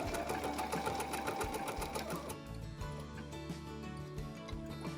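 A sewing machine stitches slowly around a curve on a Caboodle Doodle Pad, running in quick steady bursts, then slowing to a sparse, halting stitch-by-stitch rhythm. It is close but fairly quiet.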